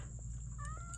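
Cat meowing, a short, fairly faint meow over a steady background hum.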